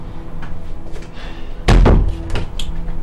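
A door slammed shut indoors during a tense family argument, a single loud thud with a short rattle, followed by faint room noise and a few light knocks.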